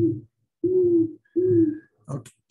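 A recorded Great Horned Owl call plays from a bird app on a phone: three deep, even hoots with short gaps between them, then a brief rustle.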